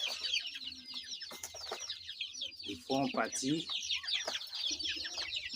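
Chickens from an Ayam Cemani and Silkie crossbreed cluck close by in repeated short bursts, with someone speaking briefly over them.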